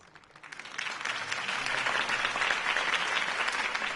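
Applause from a large crowd in the video game Batman: The Telltale Series swells up after a quiet start, then holds as a dense, steady roar of clapping.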